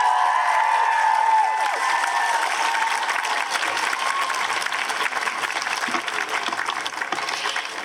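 Sustained audience applause fills an outdoor stage at Queer Pride Groningen 2021, a dense, steady crowd clapping with faint cheers mixed in, loud and continuous throughout.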